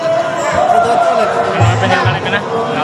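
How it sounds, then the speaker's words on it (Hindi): Crowd noise at a Durga Puja festival, a steady wash of babble and commotion throughout with some low thumps, fairly loud and continuous. "भीड़"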